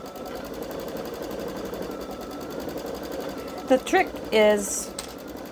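A Babylock Solaris Vision sewing machine stitching an edge-to-edge quilt, a steady, fast mechanical hum running throughout, with a person talking briefly near the end.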